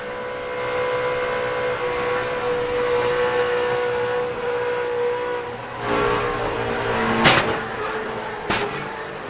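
NASCAR race cars at the 2007 Aaron's 499, including Montoya's number 42 and Ryan Newman's number 12, a steady loud engine roar from an on-board camera, with a few sharp bumps and scrapes toward the end.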